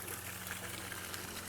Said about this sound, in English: Just nice little natural waterfall here